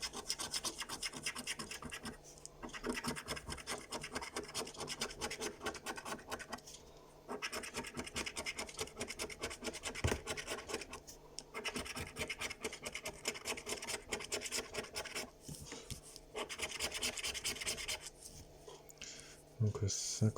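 Steady close-up scratching and rasping of scratch-off lottery tickets being rubbed with a coin, continuing in long strokes with brief pauses, while a voice speaks softly underneath.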